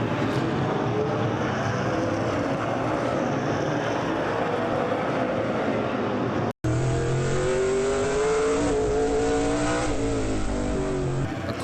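Race cars roar around Roseville's short track during an SRL Southwest Tour race, engines loud and continuous with revving swells and passing drones, a brief dropout midway before the pack noise resumes.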